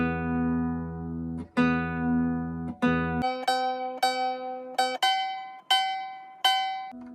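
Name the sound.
nylon string guitar E and B strings beating while tuning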